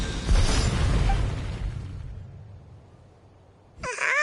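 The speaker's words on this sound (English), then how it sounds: "You were all caught in the shockwave of the explosion" A loud, close blast in Genshin Impact opens with a heavy low boom that decays into a long rumbling tail, then a sharp new sound cuts in near the end.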